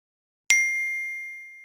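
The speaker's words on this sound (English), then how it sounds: "Oh, it looks like we have a notification." A single bright electronic ding for a 3DSwym Communities notification, a clean chime that sounds once after a short silence and rings out, slowly fading.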